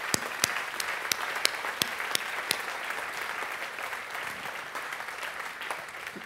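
Audience applause for a $10 million donor at a University of Sydney fundraising campaign event: dense, steady clapping from a large crowd, with a few sharp claps standing out early on, continuing evenly throughout.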